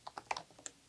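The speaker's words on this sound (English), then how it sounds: "So we're going to type in our email here" A computer keyboard clicks as an email address is typed, giving about half a dozen quick, light, close keystrokes in a brief, uneven burst with no talking.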